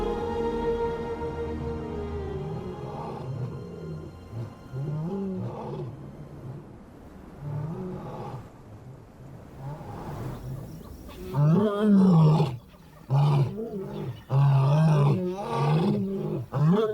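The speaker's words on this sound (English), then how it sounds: "The power of their desperate roars carry far enough to reach the pride." Lion cubs left behind without their mothers let out a series of desperate, hoarse roars and groans, growing louder and more insistent toward the end, close and carrying.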